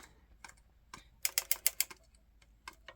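A circular sock knitting machine clicks as it is cranked, with sharp mechanical clicks that come in a quick, dense burst in the middle and scattered single clicks before and after, close and fairly quiet.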